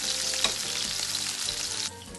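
Cajun salmon sears in a hot pan with garlic, giving a steady, close, bright sizzle with a brief sharper spatter early on; the frying settles slightly quieter near the end, and no one speaks.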